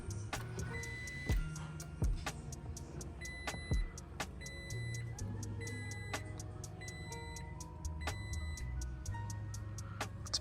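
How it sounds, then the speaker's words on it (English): A Toyota Tacoma truck starts up and runs at a low steady hum, overlaid with scattered clicks, sharp ticks and short electronic chime tones from the cab. "we should turn on the truck now"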